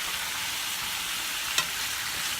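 Carrots sprinkled with herbs sizzle steadily in a hot pan with a teaspoon of oil, a close, even frying hiss with one brief clink partway through.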